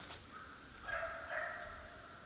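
A squirrel hunting dog barking in the woods, faint and distant, with a couple of drawn-out yelping barks in quick succession.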